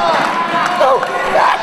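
Pro wrestling arena crowd cheering on a wrestler's comeback, a loud, continuous roar of many voices with scattered shouts and rising whoops rolling over one another.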